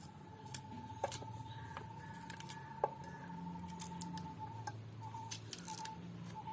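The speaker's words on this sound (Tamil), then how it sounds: "இப்படி வெட்டி போட்டு முழுசா தோல் உரிக்கவும்." Cassava root being chopped into pieces and peeled whole by hand; a few sharp, sparse cutting clicks and scrapes sound close by over a quiet, steady background hum.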